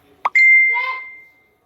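A phone's message notification gives a single chime after a short click, then rings out as a clear tone that fades over about a second, with a brief murmur of voice underneath.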